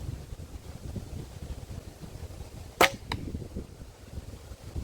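Single sharp arrow thwack from a one-piece Tartar-style bow, a bright, loud hit standing out over quiet outdoor wind noise, followed by a fainter second tap.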